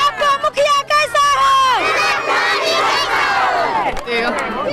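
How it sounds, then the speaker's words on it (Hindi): Large, dense crowd at a village panchayat election rally for a woman mukhiya candidate, loud and continuous, with massed chanting and shouted slogans rising over steady babble from many voices. "इतना आज भीड़ लगा, क्या कारण से इतना बड़ा रैली निकला हुआ जन सैलाब?"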